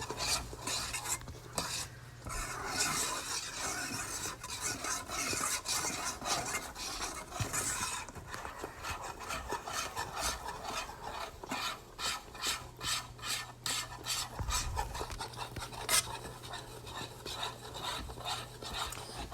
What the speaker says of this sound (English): It's like when I stir it right here.